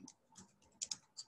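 Typing a search on a computer keyboard: a quick, uneven run of close keystrokes, a few soft taps and then sharper, louder clicks in short clusters, with nobody speaking.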